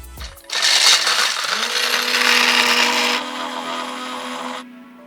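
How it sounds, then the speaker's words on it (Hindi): An Atomberg Zenova mixer grinder crushes ice in its medium jar, a loud close motor roar with rattling ice that starts abruptly, runs several seconds, then eases to a smoother whir before cutting off. "तो अब हम मीडियम जार में बर्फ़ डालेंगे। बर्फ़ को पीस के देखते हैं।"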